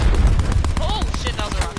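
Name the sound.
rocket explosion in Call of Duty video game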